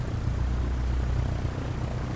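A plane's engine in Microsoft Flight Simulator gives a steady, loud propeller drone with a deep low hum that holds level throughout, with no talk over it.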